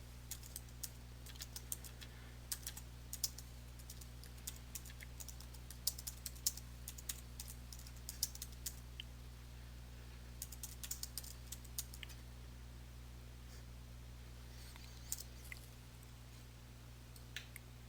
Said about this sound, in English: Simply type the text that you want to have appear within the text box.